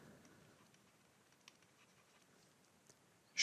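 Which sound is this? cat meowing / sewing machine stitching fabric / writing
writing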